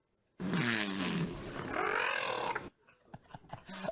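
A trained whale vocalizing in imitation of human speech, a loud, close, rough two-part utterance with warbling harmonics over two seconds, followed by faint scattered knocks.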